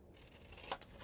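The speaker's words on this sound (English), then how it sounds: "So cut across the score lines" Scissors cut across the score lines of a scored paper piece for a scrapbook mini album, giving a short, faint snipping rustle with one crisp closing snip, heard up close and alone.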